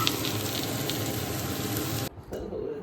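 Fish curry with cauliflower sizzles loudly in a pan, a dense steady frying hiss that cuts off abruptly near the end, leaving quieter kitchen sounds.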